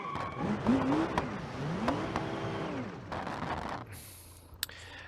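Quad turbo car in BeamNG.Drive revving hard on a runway during burnouts, its engine note rising and falling in waves with sharp popping bursts, then cutting out to a brief high whine and a click.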